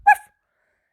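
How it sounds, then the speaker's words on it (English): A single short, sharp dog bark sounds close and clear, then cuts off into silence. "Suddenly they hear loud barks"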